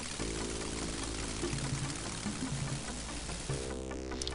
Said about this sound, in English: the first thing we're going to do is we're going to take a shower